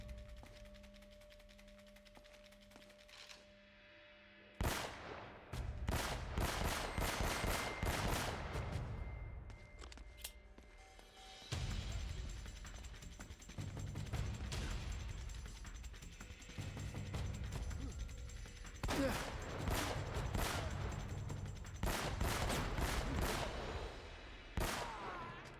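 Rapid bursts of gunfire in the action game Uncharted: Drake's Fortune, loud, dense volleys after a quiet start, broken by a short pause midway.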